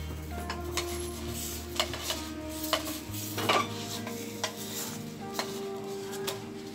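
Roti cooks in a pan with a soft steady sizzle, broken by light scraping and clinking from a utensil against the metal, close and fairly quiet with no talking.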